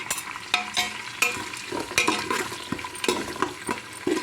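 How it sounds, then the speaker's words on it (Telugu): Khichdi ingredients fry in ghee on a low flame, with a steady sizzle punctuated by repeated clinks and scrapes of stirring against the pan, close and fairly loud. "సో ఒకసారి సిమ్లో పెట్టుకుని వేగాలండి."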